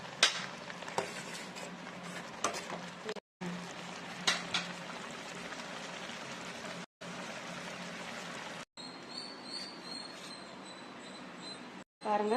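Chicken majboos rice with lemon gets stirred in a pot, giving soft scraping and gentle sizzling with a continuous simmering hiss, broken by brief pauses and a few sharper clinks of the spoon.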